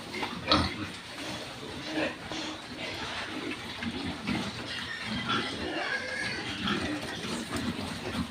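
Fattening pigs on a farm grunt and squeal close by as they are given feed, over splashing water and a busy pen clatter, with faint talk mixed in.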